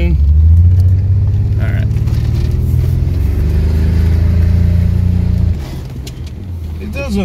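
A BMW E36 revs loudly with a steady engine drone through a skid, then drops to a quieter idle near the end; a voice speaks briefly.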